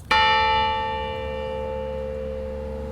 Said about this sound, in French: le clocher qui fracasse le ciel et sa cloche qui résonne